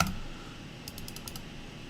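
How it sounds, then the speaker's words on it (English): A short run of crisp computer mouse or key clicks, four or five quick taps close by, over a quiet steady background hum. "Bruh, why is the clicking?"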